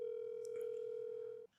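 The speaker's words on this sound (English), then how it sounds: "Oh, you're making a phone call." A telephone dial tone holds as a single steady, faint hum for about a second and a half before cutting off abruptly, with a brief click partway through.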